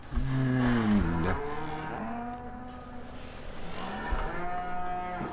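Cows in a Farming Simulator 15 cow shed moo loudly and close by, one long low call followed by further drawn-out moos over a faint steady background hum.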